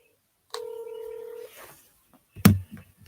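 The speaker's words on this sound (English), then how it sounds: "I'm just trying to get my mom on the phone" A phone dials out to call a mother, one long clear touch-tone beep followed by a short pause, then a brief clunk and some handling noise, close and with no talking.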